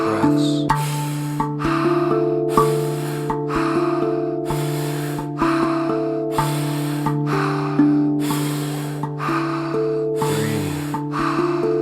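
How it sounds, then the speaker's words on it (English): Deep rhythmic breaths during a breathing exercise, each loud forceful inhale and exhale repeating about once a second over a steady backdrop of sustained musical tones. "Just a few more breaths."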